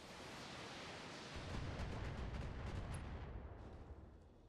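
Mech weapons firing split fire in the BattleTech video game: a dense roar of rumbling blasts and crackling impacts that swells after the first second, then tapers off, with no talk.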